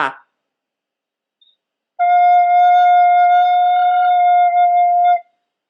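A single sustained wind instrument note F, held steady and clear for about three seconds after a brief silence, with no other sounds.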